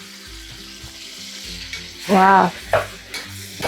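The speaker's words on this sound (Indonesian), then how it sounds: "bisa goreng-goreng dulu" Red beans fry in hot oil in a pan, a continuous crackling sizzle with stirring scrapes, and a brief spoken exclamation rises over it partway through.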